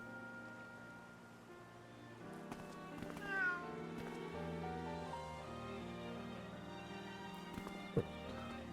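Cats meowing in the video game Atelier Ryza 3: a few soft meows rise over a steady bed of game music and ambient effects, with light footstep-like taps and no talk.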